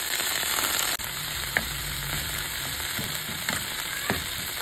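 Beef frying in a pan with garlic and tomato, a steady loud sizzle throughout with occasional faint stirring taps.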